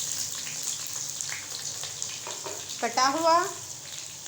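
Chopped onion sizzles steadily in hot oil in a home kitchen pot for chicken pulao, a continuous hiss running under a voice speaking in Hindi.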